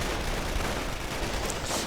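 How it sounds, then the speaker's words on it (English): Dense, continuous gunfire in a Company of Heroes battle, with the church as its source: a steady, loud wash of crackling shots and rattling bursts that never lets up. "Coming under quite a bit of fire here from the church."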